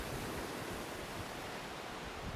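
Surf crashes onto a larger private beach at Smuggler's Bay on a cold, windy day, heard as steady, faint broadband wash with no distinct breaks and no voices.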